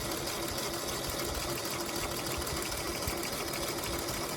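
A sewing machine stitches a quilt seam, giving a steady, even mechanical whir that runs continuously at constant loudness from start to finish, close and unbroken.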